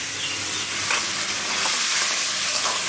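Pointed gourd and potatoes fry and get stirred in a pan of cooked-down spices, giving a steady close sizzle with soft scraping stirs and no voices.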